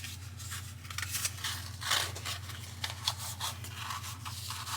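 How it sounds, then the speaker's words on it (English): Scissors snip and scrape through a cardboard toilet roll tube as it is cut in half, a run of quiet, close rasping strokes over a low steady hum, with no voices. "So all I am going to do is just cut my tube in half"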